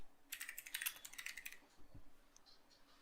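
Keys on a computer keyboard are pressed in a quick run of light clicks, close and faint, followed by a few scattered taps in a quiet room.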